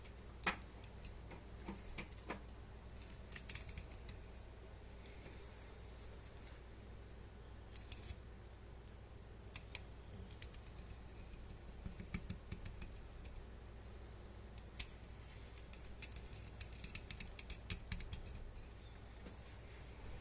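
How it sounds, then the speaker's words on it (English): A knife works through the ribs of a small bigeye tuna, giving faint, scattered crunchy snips and ticks at irregular intervals, with no voices. "Proceed while cutting the ribs."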